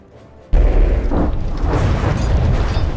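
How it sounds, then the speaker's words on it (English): Missile explosions in the naval combat game From the Depths, as Crossbones ships fire volleys: a sudden loud booming onset followed by a sustained, dense rumble of overlapping blasts. "Crossbones are shooting out a lot of this missiles"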